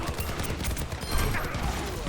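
Soldier 76 fires his rifle in an Overwatch 2 fight, a rapid rattling stream of shots amid busy game noise, moderately loud and steady with faint voices underneath.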